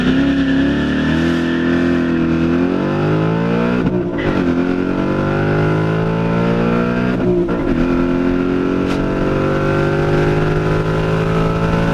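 A 2019 Mustang GT launches on launch control and pulls hard from first through fourth gear, its loud V8 roar climbing in pitch, then dipping briefly at each of three upshifts, heard from inside the car.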